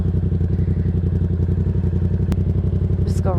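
A Yamaha XSR700 café racer motorcycle idles and runs with a loud, steady, throbbing engine note close by. A sharp click lands near the end, followed by a brief higher whine.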